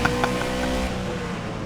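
A race car in rFactor 2 drones past with a loud, steady engine note that eases slightly after the first second.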